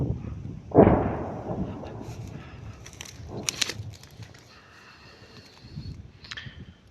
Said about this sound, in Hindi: Знову Бахмут фосфором накрили.